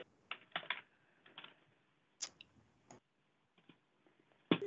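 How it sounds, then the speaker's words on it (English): Someone types on a computer keyboard over a phone line during a remote board meeting, producing faint clusters of clicky keystrokes in irregular bursts with quiet gaps, ending with a louder thump. "one of our guests is typing and it's creating a lot of distraction"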